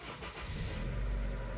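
A cold first-generation Honda CR-V engine cranks and catches, settling into a steady low rumble that grows firmer toward the end, with no one talking.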